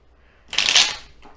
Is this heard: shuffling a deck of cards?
yes